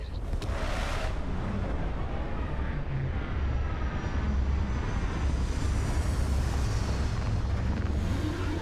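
A spaceship lands in the Starfield video game, filling the scene with a loud, steady roar of engine rumble and rushing wind that swells and holds, close and continuous, with no voices.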